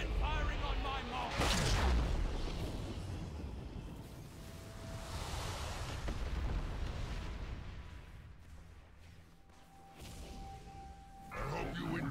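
Cannons fire during a heroic raid boss fight in a video game, heavy booming blasts and rolling rumbles like crashing surf, with a deep blast near the start and continuous roaring battle noise under voices talking.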